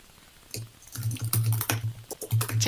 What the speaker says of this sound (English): Tippity typing as the text flurries